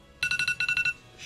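A mobile phone ringtone chirps in a rapid run of about eight bright electronic pulses in two quick bursts, then stops, followed by a soft hiss.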